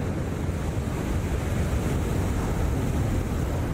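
Heavy ocean surf of 10 to 15 feet rolls and breaks off Tahiti during a pro surfing contest, a steady roaring wash of water with wind noise buffeting the microphone throughout.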